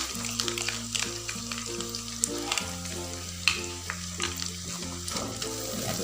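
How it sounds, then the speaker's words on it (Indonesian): Shrimp in padang sauce sizzles steadily while being stirred in the pan, with scraping clicks over a bed of music. "diaduk-aduk."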